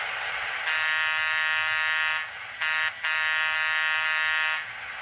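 Horn 0 of a Broadway Limited N scale ACL E7 model locomotive: a loud, steady electronic horn tone sounding in two long blasts with a brief pause between them.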